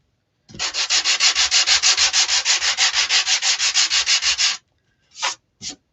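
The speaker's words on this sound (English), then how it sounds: "When in doubt, sand it out." Sandpaper rubs back and forth over a faux wooden pallet sign in about twenty quick, even strokes, close and alone, followed by two short separate swipes.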